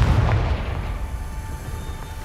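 A Confringo fire spell explodes in the video game Hogwarts Legacy, a single deep booming blast that fades out over about two seconds.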